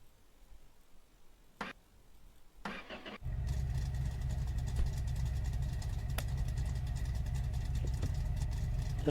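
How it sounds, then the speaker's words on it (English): A truck engine cranks and catches after a few clicks and a door sound, then settles into a steady, loud idle close by as the truck is about to be moved outside a garage workshop. "So we'll go move our truck."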